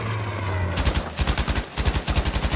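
Rapid automatic gunfire in Battlefield 5 from a light machine gun amid incoming shots, loud close bursts of evenly spaced cracks broken by a brief pause.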